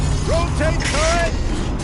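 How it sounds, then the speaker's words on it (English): Turret rotation mechanism in the video game Horizon Zero Dawn, a steady mechanical whir with ratcheting clicks and rising tonal whines that runs for about two seconds over a constant low hum. "Rotate turret!"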